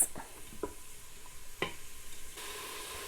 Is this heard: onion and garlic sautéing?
yes